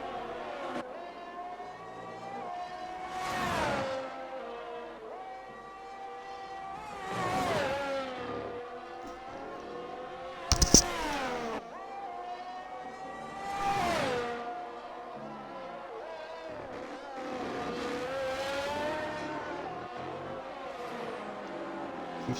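A race car engine in a racing video game laps Imola, repeated rising and falling whines as it accelerates out of corners and brakes into them, with a sharp clunk midway and no talk.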